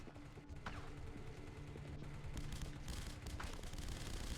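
Turret gunfire in The Punisher video game, a steady rattle of overlapping shots over a low rumble with a few sharper cracks, growing slightly louder toward the end, no speech.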